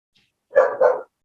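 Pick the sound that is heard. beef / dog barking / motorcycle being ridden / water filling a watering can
dog barking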